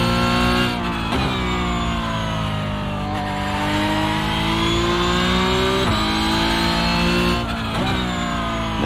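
Porsche Cup race car engine in the iRacing sim at the Nürburgring, loud and close, holding high revs with harmonic whine, sharp upshift drops and rising pulls throughout.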